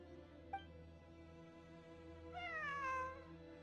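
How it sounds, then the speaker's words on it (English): A cat meows in the video game Genshin Impact, one clear rising and falling meow near the end over a steady humming game soundtrack, with a brief click earlier. "It really is a cat."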